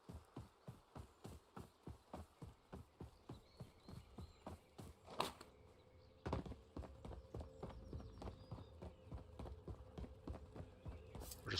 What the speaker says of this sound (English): We're just listening for footsteps as we're running.